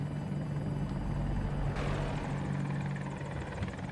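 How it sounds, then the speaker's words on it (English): An assault helicopter in the Battlefield video game thrums steadily with a loud, continuous rotor and engine drone, and a brief swell of whooshing noise cuts in partway through, with no talk. "We got an assault helicopter here we should take care of."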